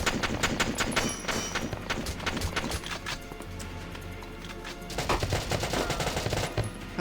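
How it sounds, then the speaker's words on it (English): Rapid machine gun fire rattles in dense, sustained bursts during Valkyria Chronicles combat. Volleys come loud and close with brief lulls between them. "God damn, those machine guns hurt!"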